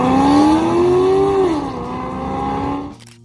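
A 1997 Chevrolet Corvette C5 V8 revs up in a rising howl, dips as it shifts, then holds a strong steady tone before cutting off abruptly near the end.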